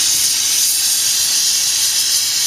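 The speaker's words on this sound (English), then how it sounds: "you know the torch is loud" A loud torch roars steadily, heating a melting dish for silver and copper, a close, unbroken high-pitched hiss with no other sounds.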